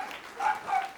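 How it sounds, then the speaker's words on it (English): A pet dog barking indoors, two short muffled barks a moment apart, distant and faint with no talk over them. "Oh, there's my dog."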